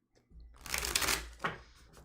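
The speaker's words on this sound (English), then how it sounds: "So let's get a good shuffle here." A Thoth tarot deck being shuffled by hand, a close, bright riffle of cards lasting about a second, then a shorter second burst of card flutter.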